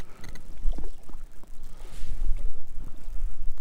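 Cold, below-freezing wind blows across open water during pike fishing. It comes as a steady, gusty rumble buffeting the microphone close up, with no one talking.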